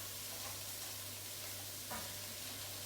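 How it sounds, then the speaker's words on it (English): Carrots dropped into a hot pan with garlic, ginger and chilli sizzle and fry steadily, a close, continuous crackling hiss with a brief stir partway through. "I'm going to fire in the carrots first"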